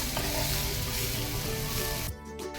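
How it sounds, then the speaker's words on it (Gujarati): Onions sauté in a pan until golden brown, with a dense, loud sizzle and some stirring. The sizzle runs continuously near the pan, then drops sharply toward the end, and no one speaks. "ડુંગળી ગોલ્ડન બ્રાઉન થાય ત્યાં સુધી સાંતળીશું"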